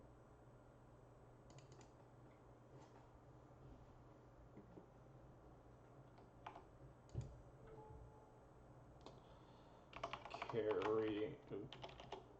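Computer keystrokes clatter in scattered bursts during an online game session, growing into a dense, louder flurry of typing near the end, with quiet voices briefly audible.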